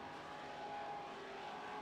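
Super stock race cars roar around an oval track at a distance, a continuous droning engine noise that rises slightly and holds steady through the short stretch.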